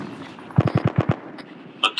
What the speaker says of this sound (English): I'm hearing shots to our south